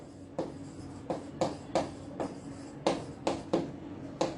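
Chalk or marker strokes on a board, a series of about a dozen short scratchy bursts in irregular rhythm, close and clear over a faint steady hum, with no talk.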